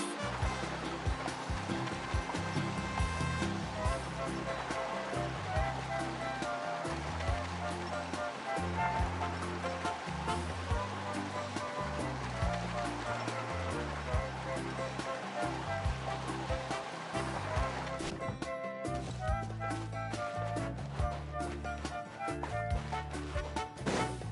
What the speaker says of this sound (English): Carving waves!